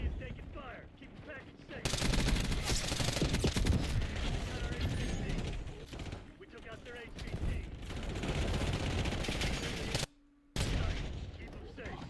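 Video game gunfire: sustained bursts of rapid automatic fire with dense overlapping shots, fading briefly in the middle and then resuming before a short gap and a final burst.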